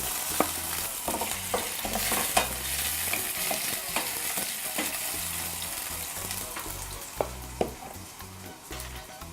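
Garlic and vegetables fry in a pan with a continuous oily sizzle, while a utensil stirs and scrapes at an irregular rhythm and occasional sharp clicks sound against the pan.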